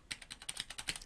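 A company name typed on a computer keyboard, about a dozen quick, evenly spaced key clicks close by in a quiet room, with no talking.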